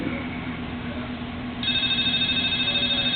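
A phone ringtone for an incoming call begins partway through, a steady run of bright, pulsing electronic tones over a quiet indoor background.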